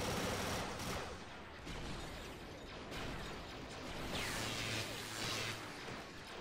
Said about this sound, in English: the droid fire is just overly intense here